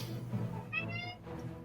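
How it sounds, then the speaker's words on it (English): A cat meows in a player's room during an online tabletop roleplaying session, a short, faint mewing sound heard through a voice chat line over a low background hum. "I heard a cat, though."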